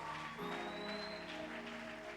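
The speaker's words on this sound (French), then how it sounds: "si tu acclames, acclame bien pour le roi des rois, le Seigneur" A church congregation applauds for the Lord during a Sunday service, a steady, full-room clapping with sustained organ or keyboard tones running underneath.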